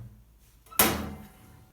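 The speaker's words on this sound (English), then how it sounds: "Beneath the router table I've made a drawer that fits into the framework of the router table" A workshop drawer beneath a router table slides and knocks shut once, a single close thud that fades into quiet.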